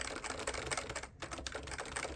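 Fingers type on a Maxi Switch rubber dome keyboard with slider: a quick, continuous patter of soft, muted keystrokes, close up, with one brief pause midway.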